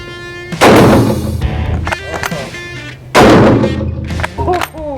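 Two heavy booming shots from a .500 Nitro Holland & Holland rifle at a shooting ground, each a loud close blast with a long rumbling decay, about two and a half seconds apart, with brief voices between them.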